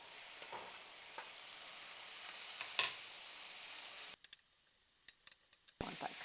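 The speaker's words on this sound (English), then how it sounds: "Okay, now we're going to put the mushrooms in." Mushrooms go into a hot pot for a gluten-free vegan pasta, a steady loud sizzle of frying with a few stirring clicks and scrapes, the sizzle dropping briefly then returning.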